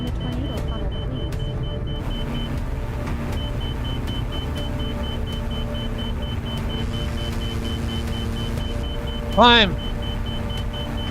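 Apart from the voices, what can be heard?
aircraft engine at throttle in a flying video game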